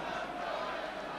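A Norwich City football crowd at a match roars in full voice, a dense, sustained wall of distant chanting and cheering with a commentator's voice faintly mixed in.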